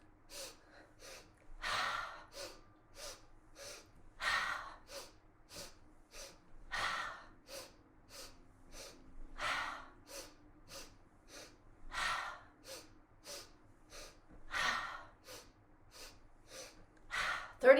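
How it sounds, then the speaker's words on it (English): Rapid deep breathing exercise: a steady, quick rhythm of short sniffing inhales and periodic longer forceful exhales, repeated for many cycles, close and fairly loud. "Inhale, inhale, inhale, exhale. Make it big."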